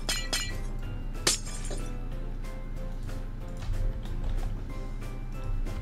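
Glass blocks being placed on a rocket under construction in a space-building video game, a run of bright clinks and chinks with one sharp shattering crack, over a steady low game hum.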